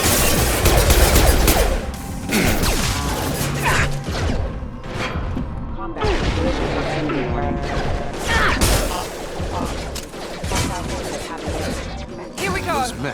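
Gunfire against hostile mechs in Mass Effect 2, dense bursts of automatic fire and impacts with mechanical clanks and crashes, loud and nearly continuous across the whole stretch, with brief dips between volleys.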